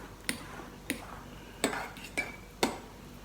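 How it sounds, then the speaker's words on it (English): A utensil scrapes and clinks against the bottom of a bowl while stirring a chunky raw vegan avocado queso dip, five distinct, evenly spaced knocks close by, with no talking. "So I am scraping the bottom of the bowl to make sure I bring that up."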